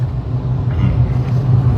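Close car engine rumbling at idle, a steady low drone that holds even and loud the whole time with no talk over it.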